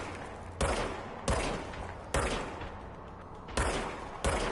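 Gunfire from the player's gun in the video game Control comes in five sharp, loud bursts at irregular intervals, each cracking report leaving a short decaying tail.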